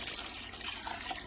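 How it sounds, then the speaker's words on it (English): Water poured from a tap or vessel over stew meat in a pot for Salvadoran beef soup, a continuous close splashing rush with slight gurgling variations, no speech. "And we're going to cover it with water, probably about 3 liters of water."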